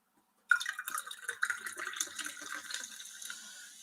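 Beer from a can poured quickly into a glass, a sudden splashing gush starting after half a second of silence, then fizzing and trickling close by as the stream tapers off.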